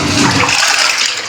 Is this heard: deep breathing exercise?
no